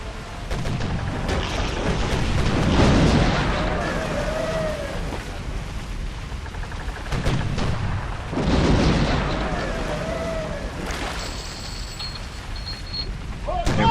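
Naval cannon fire in Sid Meier's Pirates! sounds as two heavy booming volleys with rumbling tails, loud and close, over game ambience and music-like tones.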